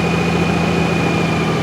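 Close, steady idle from the engine of a new 2023 Honda GoldWing DCT Tour motorcycle: a smooth, even, low rumble with a constant hum and no break.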